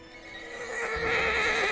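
Horse gives a loud, drawn-out whinny that swells in strength over a couple of seconds, heard alone at close range without any clear hoofbeats.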